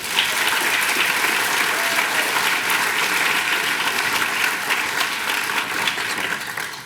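Audience applause at the CREST Awards 2009 ceremony: a full room clapping steadily and loudly, sustained without a break throughout.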